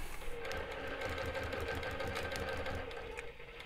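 A longarm quilting machine stitches steadily along a ruler, its rapid mechanical needle chatter running continuously and close, then easing off near the end as it stops on a point.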